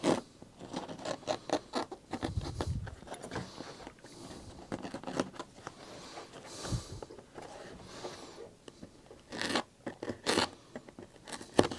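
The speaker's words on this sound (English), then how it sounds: "Cut the hole here for the door catch, and cut out here for the latch" Holes are cut into a faux leather-wrapped Land Rover Defender door card, giving quick snips, scratchy scrapes and rustling handling noises in irregular close bursts with short quiet gaps.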